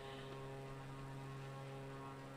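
A propeller airplane engine in a Zelda flight-academy video game drones as a steady, unbroken hum with a low buzzing tone, moderately loud and continuous for the whole moment.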